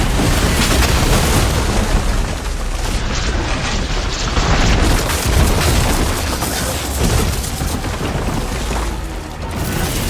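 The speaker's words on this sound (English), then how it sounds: "We'll fire a few shots from that ballista." Ballista shots in a video game fire as a barrage of loud, dense booms and crashing impacts that roll on continuously with a heavy low rumble.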